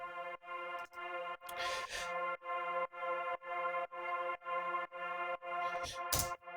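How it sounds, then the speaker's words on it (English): A soft, single-note F3 synth pad drone from Serum in F minor, with a little reverb, pulses in a steady pumping rhythm about twice a second. Faint noisy swishes appear twice. "So I started this track with a simple, super simple element, which is a one note drone"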